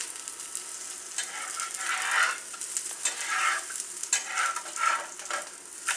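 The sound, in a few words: urad papad poli roasting in oil on a pan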